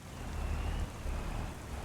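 Steady rain pattering down in Farming Simulator 25 on a community map, a continuous dense wash of drops with a low rumbling undertone, moderately loud and without talk.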